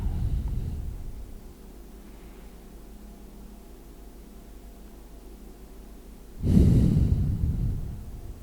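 Slow, audible breathing during a yoga class: a long soft exhale fading out, a quiet pause, then a deeper, louder breath close to the microphone.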